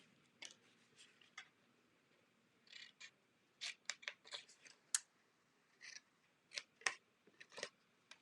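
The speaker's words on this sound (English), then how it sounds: "I'm going to start by just cutting out this entire tab on the end." Scissors cut out a paper tab in a series of quiet, close snips, irregularly spaced, some in quick pairs, with no talking over them.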